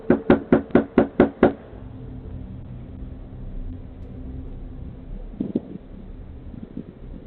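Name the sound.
man knocking loudly on a front door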